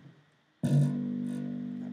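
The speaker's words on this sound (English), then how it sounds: "That rattly sound between the frets." A bass guitar note is plucked sharply and then sustains with a buzzy, rattling edge from the string hitting the frets, close and clear, alone.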